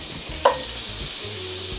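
A tablespoon of chilled butter dropped into hot oil in a pan that is off the heat gives a brief splashy burst, then settles into a steady close sizzle and crackle that runs throughout.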